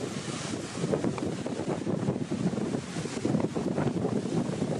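Wind and ocean surf at St. Thomas, Petersburg, roaring steadily and loud throughout, with broadband rushing and gusty buffeting on the microphone and no voices.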